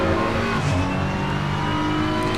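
Race car in Assetto Corsa Competizione accelerating at Imola, a loud steady engine note climbing in pitch under full throttle.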